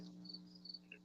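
A cricket chirps outdoors, a few faint high-pitched trills repeating over a low steady hum, distant and quiet.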